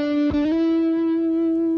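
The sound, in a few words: Ibanez electric guitar note sliding from 7th to 9th fret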